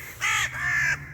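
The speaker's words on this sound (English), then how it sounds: "Look at these birds. They're not even flying away from me." Two loud, harsh caws from a crow close by, the first short and the second drawn out, with faint outdoor background hum.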